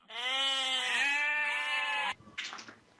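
A goat bleat used as a comic censor sound, one loud, close, sustained wavering bleat lasting about two seconds, followed by a brief burst of voice.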